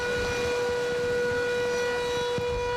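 A fishermen's guild siren wails in a loud, sustained, steady tone that fills the whole stretch, with no pause and no one talking.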